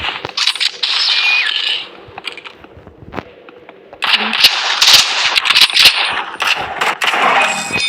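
Video game gunfire rings out in loud, rapid bursts, with a quieter gap in the middle before the shooting resumes, densely layered and close, with a voice partly mixed in.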